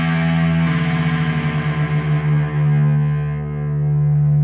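A distorted electric guitar sustains two low notes together, the low E string and the D string, their wavering beats slowing and settling as the low E is tuned down to match for drop D.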